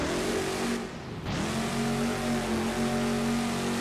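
Gravedigger monster truck engine in BeamNG.drive, loud and sustained with a steady tonal drone that dips briefly as the revs drop, then climbs back up and holds strong at an arena stunt show in the Tacoma Dome.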